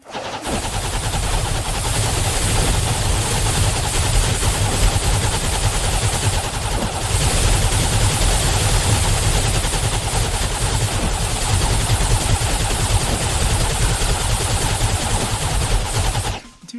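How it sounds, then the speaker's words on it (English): Dense, unbroken rapid-fire shooting from a ballista tower in the Towercraft video game, firing like a needle gun: loud, continuous machine-gun-like clatter that holds for the whole stretch and cuts off at the end. "Ballista tower turns into like a needle gun."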